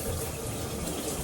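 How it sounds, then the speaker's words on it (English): Tap water runs steadily onto 4C natural hair during a wash, a close, continuous splashing hiss with no talking. "Does anybody else love the feeling of water hitting your hair during wash day?"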